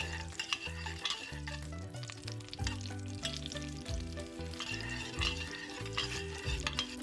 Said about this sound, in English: Add your onion to some oil and stir fry for 1 minute.